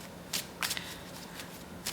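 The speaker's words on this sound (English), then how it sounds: "I am shuffling my cards" Tarot cards are shuffled by hand in soft, papery bursts, several riffles and slides at an uneven rhythm, close but quiet, with no talking.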